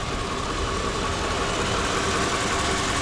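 A 2002 Mercedes-Benz SL500 Silver Arrow with low miles idles steadily at close range, a dense, even engine rumble running unbroken throughout.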